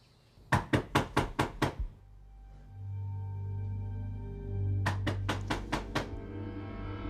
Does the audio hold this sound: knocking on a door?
yes